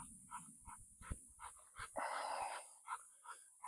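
A dog straining during weight pull training, with a rhythm of panting grunts and whimpering efforts and a brief louder rasping burst in the middle, close and fairly quiet.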